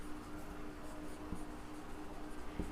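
Chalk or marker writing on a board during a class lesson on sets, a steady scratchy scrawl with a couple of sharp taps, close and moderately loud with no talk.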